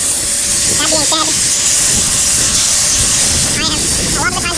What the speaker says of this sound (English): This extractor is more powerful than a steam cleaner